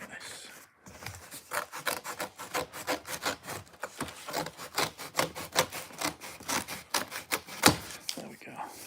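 A blade saws through a piece of cardboard used for packing comics, a close run of quick rhythmic rasping strokes that continues steadily after a short pause.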